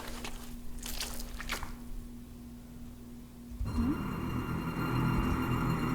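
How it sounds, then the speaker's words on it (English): In the visual novel game Neighbor, something wet hits the floor with a soft squishy splat about midway, after which a louder low ambient drone takes over. "It sounded like something wet had hit the floor."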